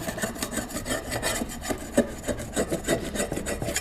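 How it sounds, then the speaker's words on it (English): A putty knife scrapes caked debris off a lawn mower blade in a steady run of close, gritty rasping strokes, with one sharper scrape near the middle and no talking. "I like to just use a putty knife and scrape all that off as best I can"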